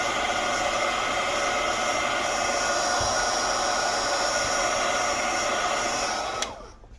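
Loud, continuous blowing roar of a heat gun drying a watercolor painting, holding steady close up for several seconds before being switched off and winding down near the end.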